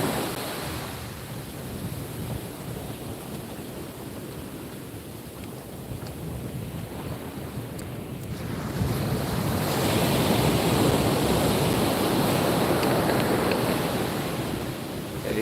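Ocean waves break on the shore in Ocean City, Maryland, a continuous rushing surf with wind buffeting the microphone, swelling louder in the second half.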